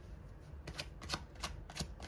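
Cards for a card reading are shuffled quietly in a few soft, sharp taps and flicks at uneven intervals against a faint background.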